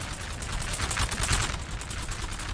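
Massed musket volleys crackle continuously from lines of redcoat infantry, the Royal Irish and King's Legion foot, firing on a flank in a Napoleonic battle game, a dense rolling fusillade without pause.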